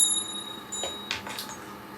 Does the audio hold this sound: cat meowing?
no